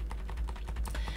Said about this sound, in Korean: 키보드 위아래 방향키를 이용하시면 돼요